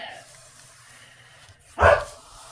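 An elderly pet dog, a female, gives a single short bark from nearby after a stretch of quiet room tone.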